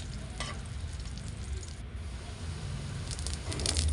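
Onion and garlic sizzle steadily as they brown in a pan for adobong kangkong, a constant soft frying hiss that swells slightly toward the end, with no talking.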